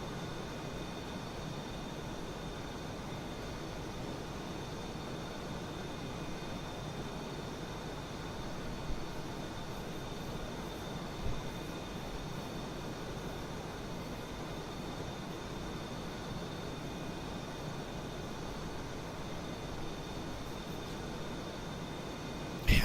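A Superbug jet's engine in a flight simulator game gives a steady, even broadband roar that holds unchanged throughout, with a faint high whine on top and a couple of small bumps near the middle.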